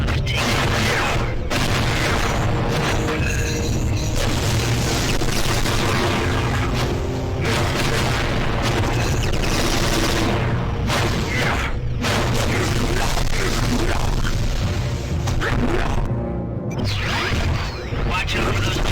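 Tower turrets fire and explosions boom in the Ben 10: Alien Force PSP game, a continuous loud barrage of blasts and mechanical clatter over music and game voices.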